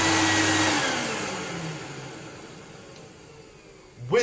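A restored Electrolux Lite Deluxe Z1810 retro vacuum cleaner runs down from a loud whirring hiss, its motor pitch slowly falling as it winds toward silence, then a brief clunk at the end.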